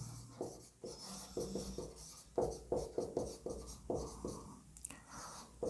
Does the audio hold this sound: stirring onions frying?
no